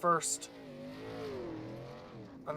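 A race truck slides sideways around the slick dirt oval at Eldora Speedway, a steady engine drone sustained close by with a brief louder burst at the start.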